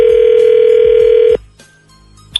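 A loud, steady telephone dial tone hums before cutting off, followed by quiet line noise and a brief click-like beep as a call is being placed.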